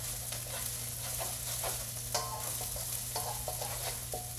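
Aromatics fry in a pan while being stirred, a steady close sizzle broken by repeated scraping strokes of the spoon, with no talking.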